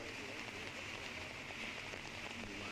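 Steady rain patters across an open disc golf course in La Mirada during a tournament round, a constant hiss with soft low rumble of wind, faint and continuous throughout.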